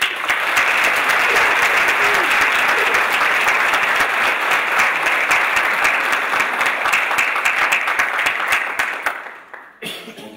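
Sustained audience applause in a hall as a professor is welcomed to the podium for an inaugural lecture, a dense, loud, steady clapping that fades out near the end.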